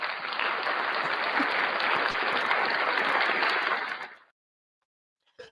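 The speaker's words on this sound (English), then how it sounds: "Can you hear the clapping?" Applause from a crowd of many hands clapping steadily and densely, holding at an even level for about four seconds before stopping abruptly into silence, with a brief faint rustle at the very end.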